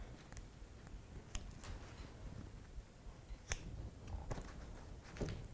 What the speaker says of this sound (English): when you're trimming, lift the fabric away and then just watch the tips of your scissors